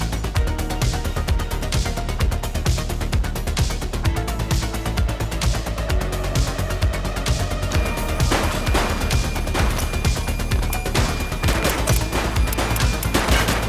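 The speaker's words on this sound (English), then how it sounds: "He's shooting!" Sustained gunfire from a suspect in the police game The Precinct: rapid bursts of shots and sharp cracks rattle loudly and continuously, with crashes mixed in.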